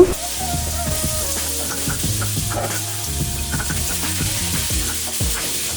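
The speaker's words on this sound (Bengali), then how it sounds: "এখন পটল আর আলুগুলো ভেজে নেব" Pointed gourd and potato pieces frying in oil, a moderate continuous sizzle with occasional clinks and stirring scrapes, no talking.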